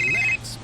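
A mobile phone rings with an incoming call, a short electronic tone pulsing in quick beeps for about a third of a second before cutting off, fairly clear against a quiet room.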